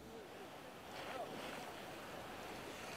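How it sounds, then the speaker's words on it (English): Record storm surge from Hurricane Sandy pours through New York Harbor, a continuous rushing wash of water and gusting wind, fairly faint and distant, swelling slightly after the first second. "This is a record surge of water, Diane, that we're witnessing right now"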